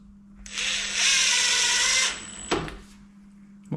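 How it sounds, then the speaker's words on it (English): An impact driver drives a screw into a wooden door frame in one sustained, loud whirring burst of about a second and a half. A couple of sharp knocks follow against a faint steady hum. "Some people use a screwdriver, but I've used an impact for years"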